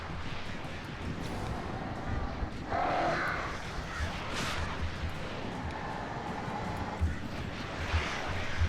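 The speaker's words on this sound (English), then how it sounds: "Fucking crows" Crows caw in the Alan Wake video game, a few harsh calls around the three- and seven-second marks rising over a dense, rumbling ambient bed with scattered low thuds.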